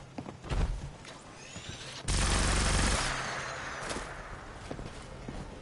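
A double-barrel shotgun firing in Fallout 76: sharp, close blasts, one dense burst sustained for about a second mid-clip, with scattered smaller shots and clatter around it.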